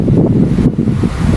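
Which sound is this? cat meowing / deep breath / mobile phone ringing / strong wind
strong wind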